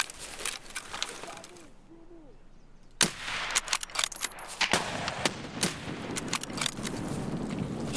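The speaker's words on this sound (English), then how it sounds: "either way it is a shotgun that's being used by that particular" Shotgun fire from an enemy scav in a shooter video game, a series of sharp loud blasts starting after a quiet gap and then coming in irregular bursts amid other clattering impacts, with no talking.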